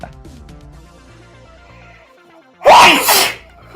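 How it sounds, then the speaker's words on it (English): A single loud, explosive sneeze bursts out near the end after a quiet stretch of faint background music, close and sharp with a short trailing exhale. "now you're sneezing"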